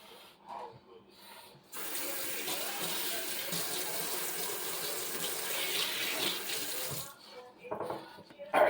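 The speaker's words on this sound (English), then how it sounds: "I'll just run some water over just to kind of get any schmutz off it." Tap water runs steadily over a ham in a kitchen sink, a close, even splashing hiss that starts abruptly, holds for about five seconds, then cuts off, with faint handling noises before and after.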